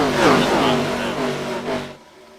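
ARCA stock cars race in the iRacing game at Atlanta, a loud engine roar with shifting pitch as cars drive by close, fading away abruptly near the end.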